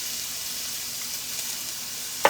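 Chopped onions frying in a pan, giving a steady, even sizzle throughout with a brief louder clatter right at the end.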